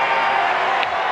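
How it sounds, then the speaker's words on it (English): Crowd noise at a Savannah Bananas Banana Ball game as the team faces its final strike, a steady broad roar of mostly home fans with a few faint whoops on top, loud and continuous. "It's a nervous cheer"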